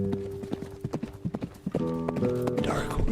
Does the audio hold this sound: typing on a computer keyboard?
no